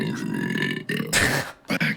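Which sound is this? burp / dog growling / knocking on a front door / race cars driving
burp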